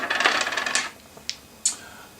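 Dice rolled during a C&C Ancients board game, a short rattling clatter up close followed by two sharp separate clicks as the dice settle, with no talk.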